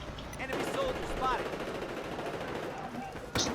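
Gunfire in the Battlefield 4 video game during an Operation Locker conquest match, a continuous dense barrage of shots and battle noise with a voice speaking over it.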